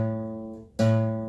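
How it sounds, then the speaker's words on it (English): A sustained bass guitar note, A played on the fourth string at the fifth fret, rings clean and steady, then is replucked partway through with a fresh, louder attack that sustains to the end. "So the notes that you'll need for the chorus are A, which is 4th string, 5th fret. Should sound like this."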